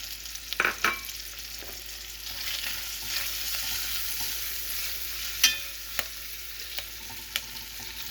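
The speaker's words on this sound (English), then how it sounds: "what I'm going to do is I'm going to add the garlic and thyme in" Garlic and thyme tossed into a hot pan and stirred for stuffies, a steady close sizzle and frying hiss with a few sharp clicks and scrapes of the spoon, no talking.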